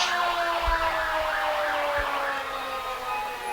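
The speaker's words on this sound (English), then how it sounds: "Hear the sirens going, the lights flash." A fire engine's siren wails steadily in its rising and falling pattern during a Christmas parade, loud and continuous, with low thumps of passing traffic underneath.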